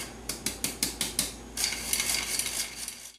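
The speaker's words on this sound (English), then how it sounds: "we're just going to sift this together into a separate bowl here" A vintage hand-crank flour sifter works allspice and cinnamon through its mesh with a rhythmic ratcheting click. There are about seven evenly spaced turns at first, then a steadier continuous scraping rasp, close and moderately loud.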